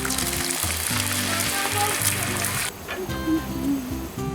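Egg whites with a little yolk sizzle and crackle in butter on a hot surface for a breakfast of bacon, egg and cheese, a steady close frying hiss that drops to a softer sizzle partway through.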